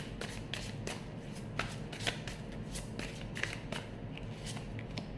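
Tarot cards being shuffled by hand, a continuous papery riffle with repeated sharp flicks and snaps, fairly close and steady, no talking.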